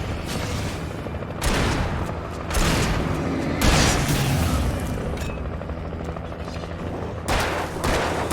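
Shotgun fire in the video game Alan Wake, several loud booming blasts spaced a second or two apart over a rumbling background.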